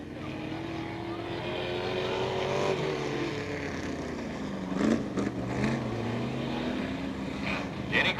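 Vintage race cars, including a 1932 Ford, 1934 Plymouth, 1935 and 1955 Chevrolets, run at Peoria Speedway on Old Timers Day: steady droning engines with rising and falling pitch as cars pass, sustained and moderately loud, with no talk.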